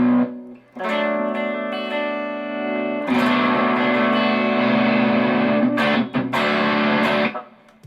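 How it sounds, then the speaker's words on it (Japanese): An electric guitar played through a Lovepedal Bonetender, a Tonebender-style fuzz pedal, with the guitar's volume knob taking it from clean crunch to thick fuzz. It is loud and sustained, with sustained chords and a brief drop before swelling into denser, saturated fuzz. "ギターボリュームのクリーンクランチ、ファズ一歩手前のオーバーダイブみたいな感じからファズみたいなね"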